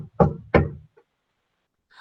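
Two firm, close knocks on a door land about a third of a second apart, followed by a faint tap and silence.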